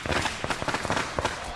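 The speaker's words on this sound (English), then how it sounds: "Shouts Shang over the noise of the firecrackers" Firecrackers bursting in rapid, irregular crackling pops during a village homecoming celebration, loud and close, with a dense run of sharp reports.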